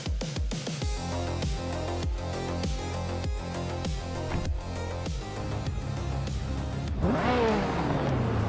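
Race cars at New Jersey Motorsports Park accelerate hard at the start, engines revving up through repeated gear shifts in a rising, stepping pattern, loud and close, with a final high sweeping whine near the end.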